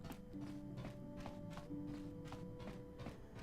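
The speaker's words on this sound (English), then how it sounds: "You think you hear the soft patter of footsteps behind you" Soft, regular footsteps in the Knights of the Old Republic game, a steady patter of light taps repeating about every half second over a low ambient hum aboard the Ebon Hawk ship.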